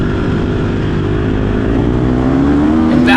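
An off-road racing motorcycle revs hard and accelerates off the start line, a loud continuous close engine roar rising in pitch near the end.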